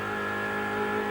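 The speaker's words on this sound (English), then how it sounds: "The Mustang sounding very, very good." A Ford Mustang race car at the 1985 Bathurst race gives a steady, loud engine drone with a sustained harmonic whine, holding constant for a moment without any talk over it.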